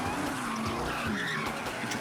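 Car tires skidding and squealing during donuts at a night street takeover with big American cars, a continuous loud screech with engine roar close by and no talk.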